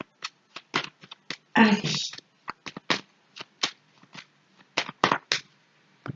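Tarot cards being shuffled by hand, heard as a rapid run of crisp riffling flutters and sharp snaps in short bursts, with one longer riffle early on, close and clear, while a person says a word.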